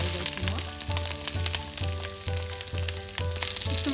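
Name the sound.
green and red capsicum frying in an oiled pan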